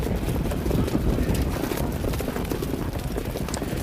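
Standardbred horses at the start of the 2019 Hambletonian harness race, a dense rapid drumming of hooves with broad rumbling crowd and track noise, steady and loud throughout.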